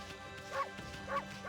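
A cartoonish dog bark effect from the video game Okami repeats at a steady rhythm, three short yipping calls with warbling pitch over a backdrop of game music.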